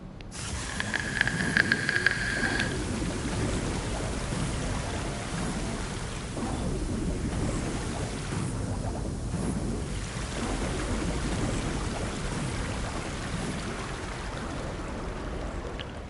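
Water floods in and rushes steadily in Horizon Forbidden West, pumped in by a cauldron, making a dense, continuous roaring hiss like heavy spray that fills the whole stretch, with a brief tonal chime early on.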